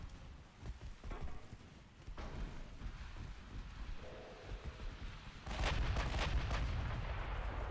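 Naval battleship guns fire in the Ultimate Admiral Dreadnoughts game, a set of booming distant blasts, then a heavier, louder salvo rumbling on over a low background.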